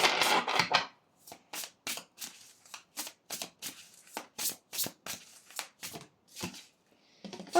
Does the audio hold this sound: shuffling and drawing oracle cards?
yes